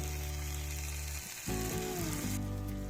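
Steady sizzling of food frying in a hot pan, with a brief dip and clatter midway as tomatoes are added, then continuous loud frying.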